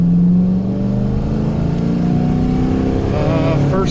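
An RV engine roars at full throttle, a loud, steady drone that climbs in pitch as the vehicle accelerates hard, with a voice briefly heard near the end.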